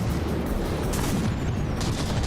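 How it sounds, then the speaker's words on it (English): Battleship shells firing in From the Depths, a dense rolling barrage of booms and gunfire with no pauses, loud and continuous. "We got the Harangor popping in there, really firing those shells here."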